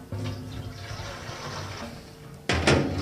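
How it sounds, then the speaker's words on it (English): Water poured into a drum, a steady splashing trickle that runs evenly, then a sudden louder gush of pouring near the end. "we're going to put some water in here"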